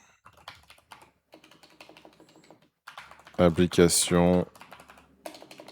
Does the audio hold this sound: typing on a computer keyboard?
yes